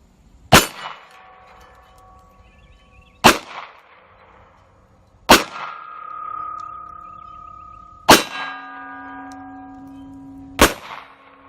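A North American Arms Single Action .22 Magnum revolver fires five spaced shots at swinging steel plates. Each sharp crack is followed by a bright metallic ring that lingers for a second or two before fading.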